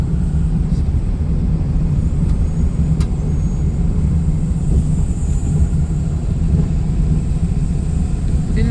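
Steady engine and road rumble from a car driving along a road, heard from inside, continuous and fairly loud with no talking.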